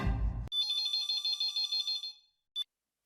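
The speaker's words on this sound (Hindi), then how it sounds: "मैं अभी नट्टू काका को फोन लगाता हूँ।" Telephone ringing as a call is placed, a bright electronic ring tone pulsing steadily for about two seconds after a short burst of background noise, then a brief final chirp, alone and clear.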